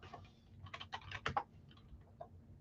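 A quick burst of typing on a keyboard during a live sports card break, a cluster of close, soft clicks followed by a couple of stray taps, quiet and without speech.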